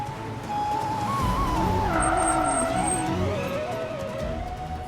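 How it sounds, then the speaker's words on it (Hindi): A car brakes hard to a stop with a loud, wavering tire squeal that rises and bends over several seconds under steady engine and road rumble, with no one speaking. "ड्राइवर, गाड़ी रोको।"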